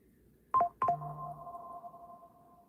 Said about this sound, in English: I just got a text message